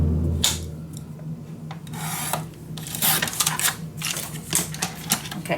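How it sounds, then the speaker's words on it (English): Paper for a mini album pocket being scored and cut: close, dry scraping and rasping strokes in irregular bursts, some quick and sharp, others longer rubs. "So we are going to score and cut."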